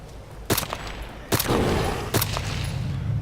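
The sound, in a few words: gunshots in video game DayZ Epoch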